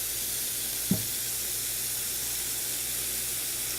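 Water pours steadily into a baking pan in a kitchen, a constant soft hiss throughout with one brief knock near the start.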